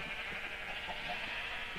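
A sheep bleats in the Land of Dreams farming video game, a faint, wavering bleat set over a steady bed of game ambience.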